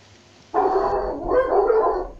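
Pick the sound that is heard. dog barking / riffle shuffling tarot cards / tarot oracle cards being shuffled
dog barking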